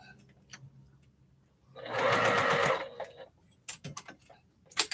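A sewing machine stitching a cathedral window quilt block whirs loudly in one short burst of about a second. Quieter clicks and handling noises follow, with faint low sounds earlier.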